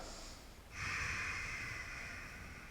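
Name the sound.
deep breath during yoga lunge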